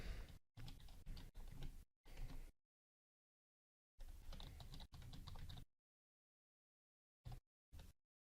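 Rapid keystrokes on a computer keyboard as a password is entered, in several quick bursts separated by pauses, with a few isolated taps at the end; close and fairly quiet, no talking.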